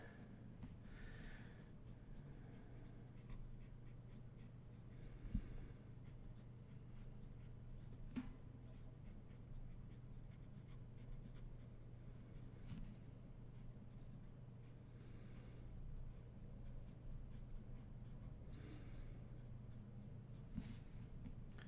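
A fountain pen with Cotton Candy Pannonia ink scratching steadily across croquis paper, a soft continuous close-up scribble with faint strokes and pauses over a low steady room hum.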